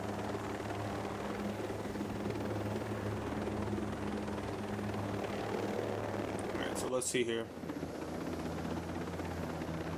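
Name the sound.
helicopter in video game Ghost Recon Breakpoint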